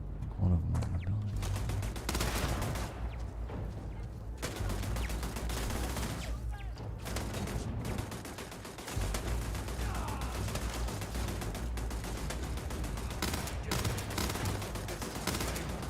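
Sustained, dense automatic turret gunfire in the Starfield video game, rapid shots rattling almost continuously with brief dips, loud throughout, with a voice speaking underneath.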